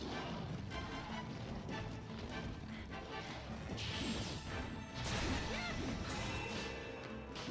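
In Monster Hunter Generations, a Sonic Smash attack lands as a dense burst of crashing, whooshing impacts over a constant noisy game backdrop, with a sharper surge near the middle and a louder hit toward the end.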